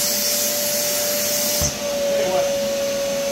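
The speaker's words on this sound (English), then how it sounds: "this vacuum cleaner attachment puts a heck of a restriction on it" Shop vacuum with a restrictive attachment drones steadily and loudly throughout, a constant high whine with a sharp tonal hum, while someone speaks briefly over it in a garage where an engine is being pulled from a 1995 Camaro Z28.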